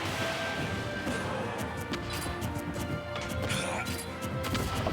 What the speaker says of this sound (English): Up smashes coming out.